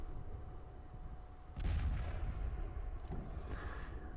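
Guns firing in the war game Tides of War: a heavy boom lands about a third of the way in and rumbles on, with a few softer cracks and pops following over a steady low background.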